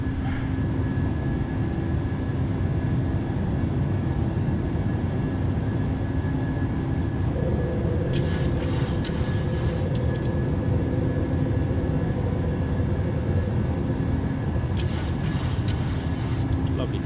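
Steady, loud jet engine roar of an airliner climbing after takeoff in Microsoft Flight Simulator, a continuous cabin drone with a low rumble and a faint tonal whine, with brief bursts of added noise partway through.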